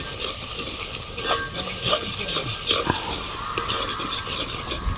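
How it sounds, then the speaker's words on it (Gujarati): Chilli is stirred in a pan of hot oil while cooking, a steady scraping and sizzling texture with intermittent spoon scrapes, close and continuous without talk. "એને હલાવી નાખીએ"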